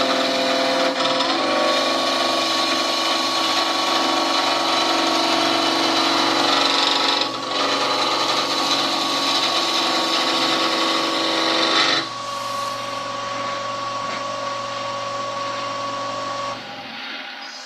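Spindle turning on a woodturning lathe, a hand-held tool cutting the spinning wood in a steady, loud, continuous shearing hiss over the motor hum, easing off briefly once and lightening near the end.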